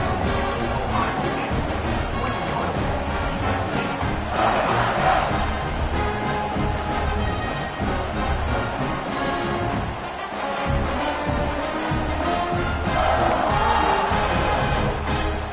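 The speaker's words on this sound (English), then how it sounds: "this crowd is feeling themselves after that last drive" Football stadium crowd roaring after a touchdown, a loud, dense wash of cheering and shouting that swells and holds for many seconds with no clear single voice.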